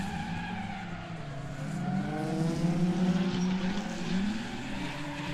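Drift car spinning out mid-battle at a street drift series event, engine revving hard with wavering pitch sweeps and tire skid noise building to a loud peak around the middle, then easing slightly.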